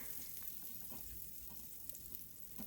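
Crepe batter sizzles in a buttered skillet with a steady, faint crackle and occasional soft ticks, heard close and with no voices.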